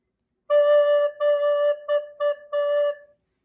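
Alto recorder held on the note D, played as five separate tongued notes, some long and some short, with a clean, breathy tone up close and no talking.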